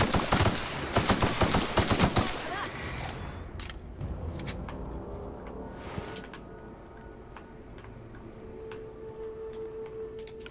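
Acid weapon fire in The Outer Worlds, a dense burst of rapid automatic shots in the first few seconds, followed by scattered sharp pops and clicks over a low, steady game ambience.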